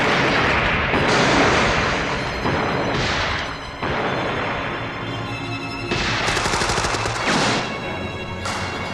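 Gunfire erupts in a shootout scene from The Untouchables, loud repeated shots and booming blasts layered over a dense, continuous roar of film score and action noise.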